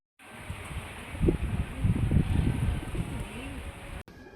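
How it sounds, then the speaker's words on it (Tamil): A male pigeon coos, a low, throaty, rhythmic cooing close by that repeats for several seconds over a steady background hum. "ஒரு புறாக்களை மற்ற புறாக்கிட்ட விடும்போது கூவும் கைஸ்."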